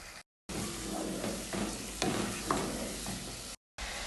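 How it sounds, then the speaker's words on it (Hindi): Onion and aromatics sautéing on medium flame for a palak shalgam (spinach and turnip) dish, with a steady sizzle broken by a few stirring scrapes of a spatula in the pan. "10 सेकंड तक इसको मीडियम फ्लेम पर थोड़ा सा भून लेंगे"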